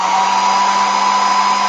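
A hair dryer blows steadily and loudly, drying paint on a gel printing plate page for an art journal; a constant close whir with no talking.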